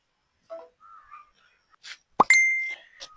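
A short phone message notification tone rings out as a bright, clear electronic chime lasting about half a second, preceded by a few faint clicks and soft plops in an otherwise quiet room.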